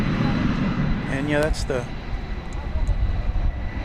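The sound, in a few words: Boeing 777 freighter aircraft, Aerologic flight 464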